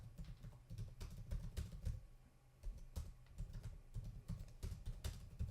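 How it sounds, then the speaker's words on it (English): Keys on a keyboard clatter in fast, uneven bursts of clicks close to the microphone, carrying on steadily with no voices. "Everybody's seeing how bad I am at typing now too."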